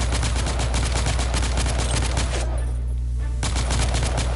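Sustained automatic gunfire from a shooter game set in an alternate Victorian London, The Order: 1886, rattles loud and close in rapid bursts, with a brief lull before the shooting resumes.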